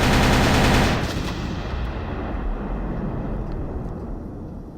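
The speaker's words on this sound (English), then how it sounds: "Hidden landmine. How could I be so careless?" A hidden landmine blasts in the retro video game Boot Hill Heroes, a loud crackling explosion burst at the start that decays into a long noisy rumbling tail.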